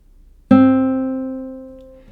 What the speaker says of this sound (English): To play C, you hold down the 2nd string on the 1st fret.